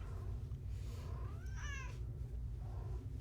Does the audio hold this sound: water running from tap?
no